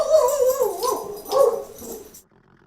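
A pet dog whimpers and whines in a few drawn-out, wavering cries, close by and alone, stopping abruptly near the end.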